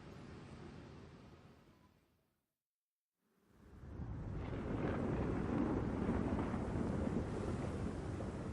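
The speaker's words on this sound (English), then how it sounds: "It's an ash storm!" Howling ash storm wind in God Eater 3, a loud, steady roaring rush that fades out, goes briefly silent, then returns stronger and keeps blowing with no voices.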